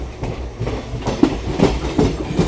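Passing train crossing near Buxar railway station, rhythmic clickety-clack of wheels over rail joints with repeated clunks, close and loud, no talk.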